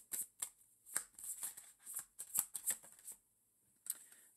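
A deck of tarot cards is shuffled by hand in close, crisp riffling bursts, several rapid shuffles with brief gaps, soft and intimate with no talking.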